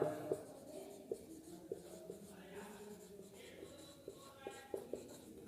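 A pen scratches across paper while an application is written: soft, continuous strokes punctuated by small ticks and taps, quiet and close, with a faint voice murmuring underneath.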